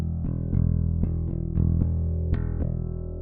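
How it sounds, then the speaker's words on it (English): Bass guitar open E string played through a TONEX pedal in bypass, a sustained deep low note repeatedly plucked in an even rhythm, loud and close with no talk. "So if I just play the open E string,"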